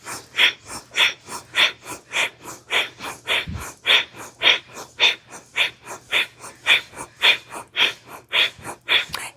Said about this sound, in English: We're gonna have hands to shoulders, in and out through the nose, up and down with the hands.